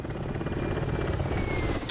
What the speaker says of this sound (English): The helicopter just carries on in the direction it's going